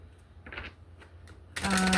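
Tarot cards being handled: a few soft, papery rustles and taps, then a denser burst of shuffling or sliding cards at the end, close-up, with no one talking.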